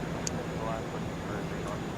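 A JetBlue Embraer on Boston flight 1149 arriving at Atlanta International Airport, heard as a steady, distant broadband roar that holds evenly throughout.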